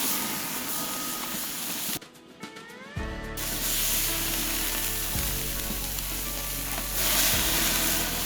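Skirt steak laid across the hot grate of a Santa Maria grill breaks into a loud, steady sizzle after a moment of quieter crackle, with meat dropping on in a few soft thumps before settling into continuous frying hiss.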